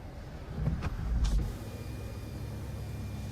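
The electric sunshade of a 2023 Genesis G80 3.5 twin-turbo V6 slides along its track with a quiet motor whir, ending in a soft click before a low, steady cabin hum continues.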